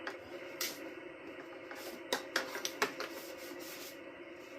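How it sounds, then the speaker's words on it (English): A rag rubs and wipes dirt off an upside-down diesel parking heater, with soft, irregular scrubbing swishes and brief scratchy bursts, close and fairly quiet. "I'm going to take this rag, get some of the stuff off it."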